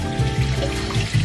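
Tap water runs steadily into a sink to wash strawberries, a close, bright gushing splash with small fluctuations over a short stretch.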